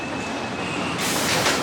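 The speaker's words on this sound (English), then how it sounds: "Riders, sit back, relax, and enjoy your ride on" An amusement park train rolls along its rails with a steady, loud rumble and clatter, brightening into a harsher rushing noise partway through, with no voices.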